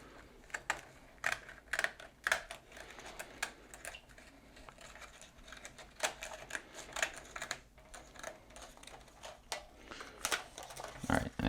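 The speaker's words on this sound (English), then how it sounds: "you just want to come in with your scissor and just cut some backing off" Scissors cut the backing off a pinball decal during a Whirlwind machine restoration, giving quick, close snips and clicks in irregular bursts over a quiet room.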